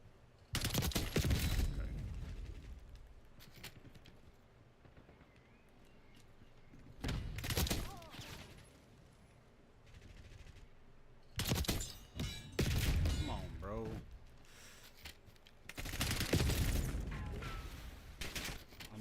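Bursts of rapid gunfire in a Fortnite or Call of Duty match, several sharp volleys separated by quieter gaps, with faint thuds and clatter between them.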